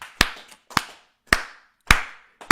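Sharp, sparse handclaps ring through a church during a French prayer service, five loud strikes in a slow, uneven rhythm with reverberant decay between them.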